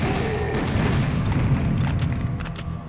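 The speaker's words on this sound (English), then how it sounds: "Those ones explode." Booming explosions from exploding enemies in the shooter Serious Sam HD: The First Encounter, a dense run of loud, rumbling blasts layered with gunfire-like cracks throughout.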